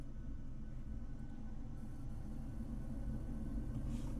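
Boeing 737 jet engines spooling up to 40% throttle, a steady deep rumble and broad whine heard from inside the cockpit, constant and fairly loud with no talking.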